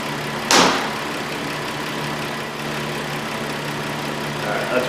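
A car engine idles steadily with a low, even hum while its charging system is tested; a sharp whooshing burst cuts in briefly near the start, then the idle continues alone.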